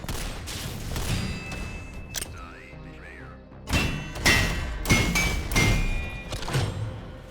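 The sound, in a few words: weapons firing in the video game Synthetik 2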